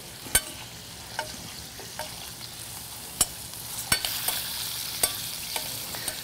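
Lobster meat sizzles in a pan while being basted with vanilla bean oil, a steady light fry punctuated by sharp intermittent spatters and clicks of a spoon, close and without speech.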